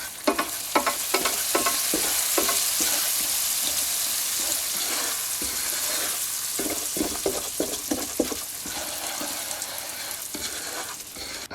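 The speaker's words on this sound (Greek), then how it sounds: "Θα ρίξω 3 καλά γεμάτες κουταλιές του γλυκού, ζάχαρη λευκή ή καστανή στο τηγάνι και μια καλή κουταλιά της σούπας βούτυρο" Sugar and butter cook in a frying pan over the heat, giving a steady close sizzle and frying crackle with repeated scraping and stirring strokes throughout, no voices.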